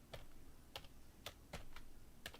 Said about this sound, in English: What the hell kind of keyboard is this?